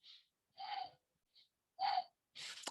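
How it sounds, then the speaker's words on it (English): Several deep, audible breaths during a group yoga session, sharp inhale-like bursts spaced about a second apart, close and isolated against silence. "Take 3 big breaths."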